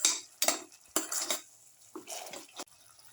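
A spoon stirs and scrapes through curry leaves in a cooking pan, giving several distinct metallic clanks and scrapes in an uneven rhythm, close and fairly quiet, with a faint sizzle beneath.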